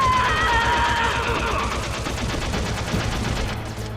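Rapid gunfire in the video game Metal Gear Solid rattles in quick repeated bursts, loud and close, with an alert tone at the start and steady shots continuing to the end, no voices.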